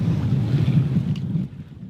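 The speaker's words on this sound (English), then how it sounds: "there's a little bit of wind" Steady wind at sea while sailing, a low, continuous rushing drone with slight gusty swells that eases off near the end, heard alone with no talking.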